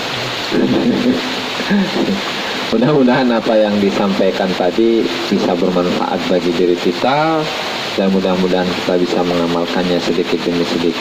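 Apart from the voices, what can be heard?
heavy rain and thunder during the evening lesson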